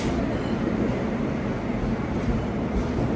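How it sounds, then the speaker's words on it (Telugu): An SCR locomotive-hauled train pulling into a station platform, a steady heavy rumble and rolling roar of wheels on rails that stays loud and constant throughout, with no clear talk. "బండి వస్తుంది. SCR locomotive."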